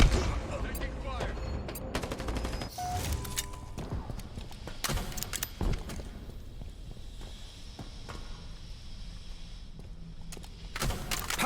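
Rapid bursts of gunfire in Halo Infinite multiplayer, sharp cracks in clusters and single shots scattered across the span, with footsteps between, at moderate loudness.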